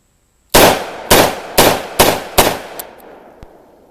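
Five loud, sharp revolver shots from a Taurus 605 .357 Magnum, fired in a steady rhythm about half a second apart, each with a ringing decay, followed by a couple of faint clicks.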